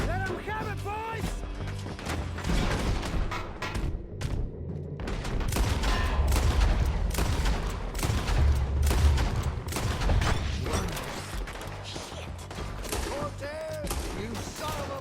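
Shootout gunfire in the Western video game Red Dead Redemption 2, with dense overlapping shots, crashes and booms filling the whole stretch while voices shout over the fight.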